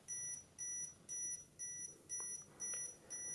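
An EMF meter alarm beeps in a steady rhythm, about seven short high-pitched electronic bursts at regular intervals, fairly faint and with no talk.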